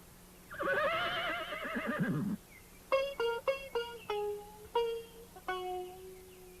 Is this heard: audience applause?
no